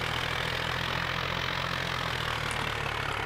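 A tractor engine idles in Farming Simulator 2011 with a steady, low, even drone and a faint hum on top, unchanging and alone throughout.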